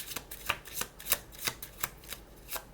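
Oracle cards are shuffled for a reading, a quick series of close, crisp riffling flicks repeating at an even pace, with no voices.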